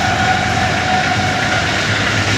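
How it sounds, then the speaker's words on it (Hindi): Khyber Mail passenger train passing through Jeth Bothh railway station at dawn, a loud, steady rumbling roar of wheels and carriages close by, continuous with no break and no voices. "और वो ट्रेन जा रही है।"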